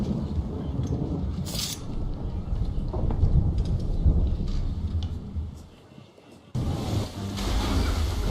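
Wind, crashing waves and rumbling thunder surround a sailing ship caught in a storm at sea in Assassin's Creed III: Liberation. The din stays dense and continuous, broken by a brief lull before it surges back.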